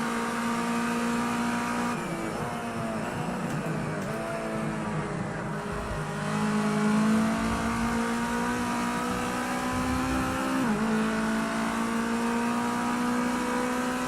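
Race car engine in Project CARS 2 at Donington, a steady loud drone with rising and falling revs through gear changes, continuous and close, with no talk.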